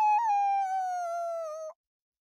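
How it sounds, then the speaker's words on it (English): A creature howling in a forest-edge setting, a single sustained, slightly falling tonal howl of nearly two seconds, clear and alone before cutting to silence. "a creature howled behind them"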